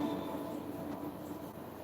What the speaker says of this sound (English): So I got myself a train set